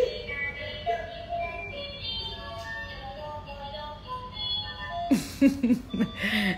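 A toy baby walker plays electronic tones and a synthetic voice in Chinese, with a string of steady beeping notes and then a brighter, louder melodic burst toward the end, under a faint room background.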